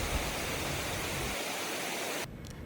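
Amicalola Falls waterfall rushing as a steady, loud, broadband roar of falling water, unbroken and with no voices over it.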